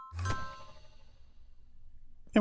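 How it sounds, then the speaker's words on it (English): A bell in Minecraft with the Ars Nouveau mod rings once on arrival by warp, a bright clanging strike that rings out and fades over about two seconds, followed by a brief sharp knock at the end. "Bell rings."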